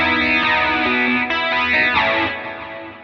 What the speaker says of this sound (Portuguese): Coros com delay em estéreo